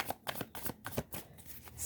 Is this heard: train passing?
no